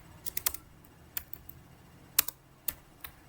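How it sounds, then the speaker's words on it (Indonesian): A computer keyboard tapped as a router command is entered, a quiet, uneven run of crisp key clicks with short pauses between strokes. "Kita ketikkan show IP"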